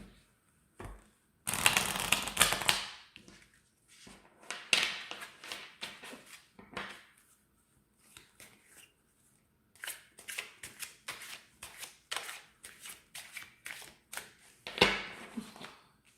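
A deck of Dominion game cards shuffled in several bursts of riffling and flicking, close up and crisp, with pauses between rounds and no talk.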